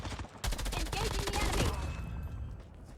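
Rapid automatic gunfire rattles in a video game, a dense burst of close shots lasting over a second, then trailing off into quieter background noise with faint voices.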